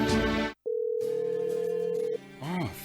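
A steady phone dial tone sounds while a call is placed, a single even hum holding for about a second and a half, with brief voice sounds before and after it.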